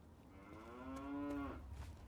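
Cow in Fallout 3 lets out one drawn-out, close and clear moo lasting about a second over faint background ambience.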